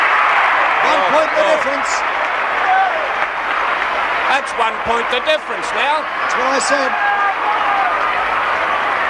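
A big football crowd roars steadily at a 1968 VFL Grand Final between Essendon and Carlton, loud and continuous, with a commentator talking over it and applause rising throughout.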